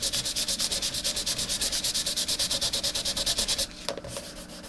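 Sandpaper rubs by hand over a sealer bubble on an acrylic painting, a fast, steady back-and-forth rasp of about twenty close strokes that ends in a brief knock and faint handling.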